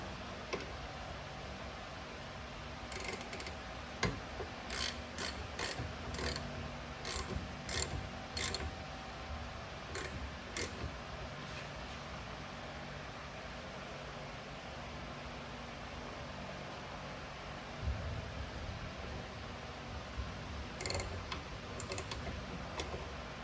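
A ratchet wrench tightens bolts on a trailer tool box, quick clicking bursts coming in spurts over a steady low background hum, with pauses between runs and no talking.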